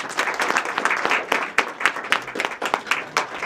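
A gallery talk audience applauds to welcome artist Charles Clary: a dense, steady wash of many hands clapping fairly close, with sharper individual claps standing out, and no voices over it.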